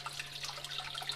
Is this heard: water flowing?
yes